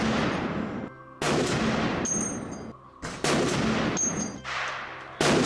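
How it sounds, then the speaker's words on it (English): Shots from a scoped .50 caliber Barrett rifle at a 100-yard range: loud, sharp blasts with long ringing tails, roughly four or five heavy reports spaced about a second apart, close to the listener. "he put it on his 50 caliber Barrett. And he shot 2 groups with it at 100 yards."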